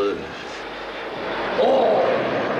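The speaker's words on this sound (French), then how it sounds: "les avions font un bruit effrayant" A loud aircraft flies low overhead near a house, its engine roar rising and swelling toward the end of the clip while voices talk underneath.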